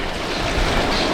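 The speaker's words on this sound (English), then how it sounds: "I'm not sure if you can hear the waves crashing right now" Caribbean ocean waves crash on the shore below a patio, a continuous roar of surf mixed with wind rumble on the microphone, loud and close with no voices.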